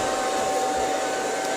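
An Infinuvo Hovo wet/dry mopping robot vacuum runs across the floor with a steady, close whirring drone and a faint whine, continuous and alone with no talking.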